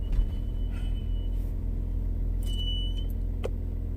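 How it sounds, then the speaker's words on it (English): A car engine rumbles steadily and loudly at close range while the vehicle backs out of a garage, a low continuous drone with a few faint higher squeaks and clicks on top. "I'm backing out the garage. So, my car is going a little crazy right now"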